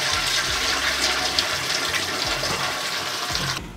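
Cleared toilet draining after a blockage is removed, a loud continuous watery rush and gush lasting several seconds, close up and alone, with a low gurgling rumble underneath.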